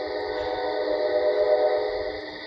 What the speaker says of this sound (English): Right before that damn train come through